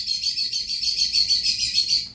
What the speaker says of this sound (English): Sorry, that's my bird.